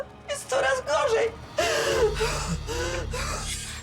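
A woman gasps and chokes for breath in a clinic, with repeated ragged, strained inhalations and whimpering sounds at close range, followed by a low rumble.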